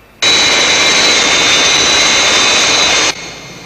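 Skythrust jet airliner engines in flight, a loud sustained roar with a high whine that starts abruptly, holds steady for about three seconds, then cuts back to a low rumble.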